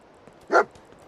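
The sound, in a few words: Dogmeat the dog barking in video game Fallout 4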